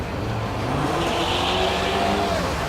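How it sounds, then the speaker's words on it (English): Ford Escort race car at a hillclimb revving and spinning its tyres to warm them, a steady engine drone with rising pitch and a broad rushing noise held throughout at moderate distance. "I can hear them warming up tires"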